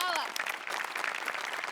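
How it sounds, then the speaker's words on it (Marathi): Studio audience at a Marathi comedy show bursts into applause, a dense, steady clatter of clapping that runs the whole time, with a voice speaking briefly at the start. "तुझ्या प्रसंगावधानासाठी जोरदार टाळ्या"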